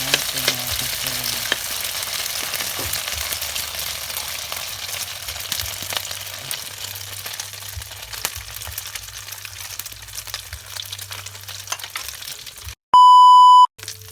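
A moringa, sardine and egg omelette frying in hot oil, a steady close sizzle and crackle that runs throughout, then cut off by a loud electronic beep at the end.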